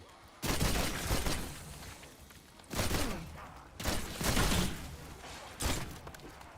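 Gunfire from an awkward-handling gun in Call of Duty: Black Ops zombies, heard as several loud, dense bursts of shots separated by short pauses, with a steady game background underneath.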